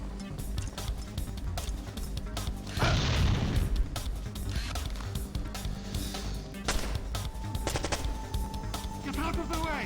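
Gunfire in the PS2 stealth game Splinter Cell, dense bursts of shots and booms filling the whole stretch, with a louder blast near the start of the third second, mixed with game voices and effects.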